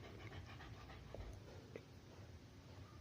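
A dog named Mama Taki pants steadily and close by, a soft rapid breathy rhythm running through the whole moment with a faint whimper-like tone, no talking over it.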